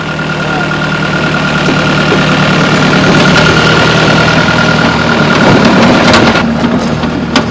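A skid steer loader's engine idles loud and close on a construction site during an observation deck build, a steady low rumble with constant vibration throughout.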